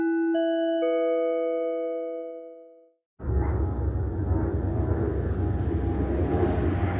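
An airplane passing overhead around nine at night: a few chime-like electronic tones ring and fade, then a steady, loud, broad engine roar takes over and holds without letting up.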